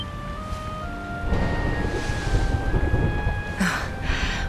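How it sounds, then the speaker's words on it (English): Low thunder rolls and swells through steady rain outside in a Dragon Quest XI S scene, a soft distant rumble building midway under faint ambient music, with no voices. "Would you look at it thundering away out there?"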